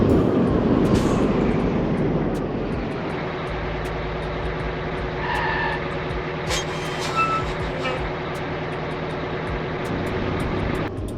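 Heavy truck in the Grand Truck Simulator game braking hard on its normal brakes, a loud continuous engine and road drone that settles lower as it slows, with faint hissing and clicks on top, no talking.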